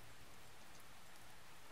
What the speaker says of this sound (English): For a while, all I heard was the sound of raindrops on umbrellas.